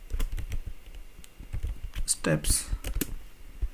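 Rapid keystrokes on a computer keyboard while Java code is typed, a steady clicking patter mixed with a voice talking over it.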